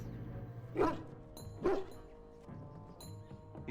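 A dog barks twice, separate sharp woofs under a quiet background of game music in Dragon Age: Origins, with a soft whimper near the end.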